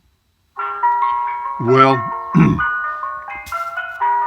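An ice cream truck jingle plays from a Google Assistant smart speaker as a steady, tinkling melody, cut by two short bursts of speech partway through.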